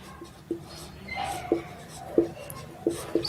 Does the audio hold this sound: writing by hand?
yes